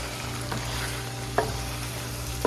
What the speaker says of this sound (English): Now we're going to go ahead and mix it very gently and add our potatoes.